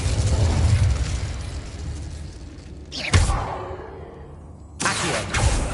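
A fire spell cast in Hogwarts Legacy bursts with a whooshing flare and a thumping impact, then crackles and roars on as flames, with a second surge near the end, mid-loud and without speech.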